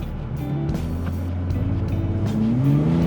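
A 1980s DTM touring car engine roars loudly and close under hard acceleration, its pitch climbing steadily through the rev range without a break.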